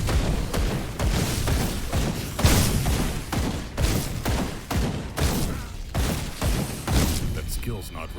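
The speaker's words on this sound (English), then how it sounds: "It's just the staccato of the freaking gun, man." Rapid bursts of gunfire from the video game Grim Dawn crack in a staccato rhythm, with repeated sharp booming shots across the whole stretch, mixed with game effects and a speaking voice.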